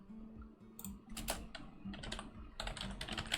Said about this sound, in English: I'm typing in it.